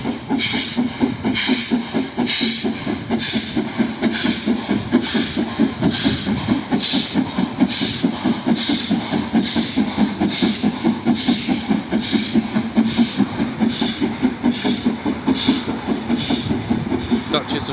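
Steam locomotive Duchess of Sutherland, with a Kylchap chimney, hauls ten coaches through Devon, sending out a steady rhythmic chuffing with a regular beat and hiss while a person talks over it.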